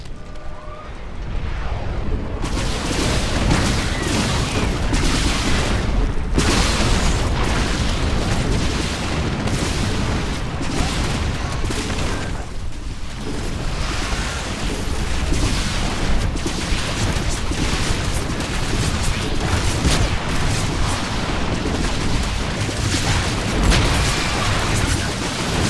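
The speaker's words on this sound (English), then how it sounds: "Perhaps a nuclear strike would be useful." A nuclear strike from the StarCraft 2 video game sets off heavy, sustained explosive rumbling with repeated booms and bursts, loud and continuous throughout.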